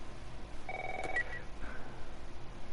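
Telephone ringing in a video game, one short electronic ring burst partway through, faint against a quiet low background hum with no talk.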